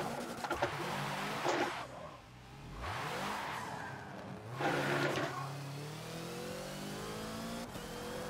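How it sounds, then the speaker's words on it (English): Hoonigan Ford Focus race car in Forza on the Rio National track, engine revving hard in repeated rising bursts with tire squeal as the car goes airborne and lands, loud and close throughout. "That's what I get for trying to keep the throttle pinned when the car gets airborne."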